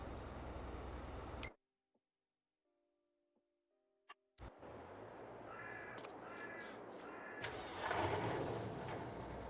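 Truck in Farming Simulator 22 with a loud hiss of air brakes and mechanical noise after a short silence, crows cawing and backing beeps mixed in nearby.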